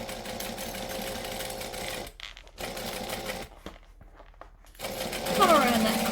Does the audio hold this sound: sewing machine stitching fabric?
yes